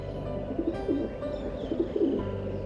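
A messenger bird coos in soft repeated low warbles over a steady background hum, close and moderately loud, with no voices.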